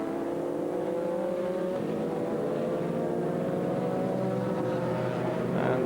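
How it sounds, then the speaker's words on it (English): A Harlow Racing Team Porsche race car limps back to the pits on a flat rear tire, its engine a steady droning hum with tonal whine, held at moderate level throughout and rising slightly at the very end, with no voices. "And limping back to the pits, we hear flat rear."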